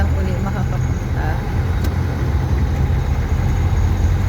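Steady low engine rumble and road noise inside a moving car, constant throughout, with voices talking faintly over it.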